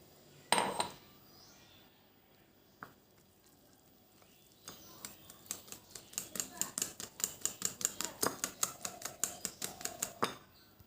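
Oreo cake batter being mixed in a bowl, with a rapid series of scraping, clinking strokes that quicken into a steady rhythm, after a few isolated knocks, close and fairly quiet.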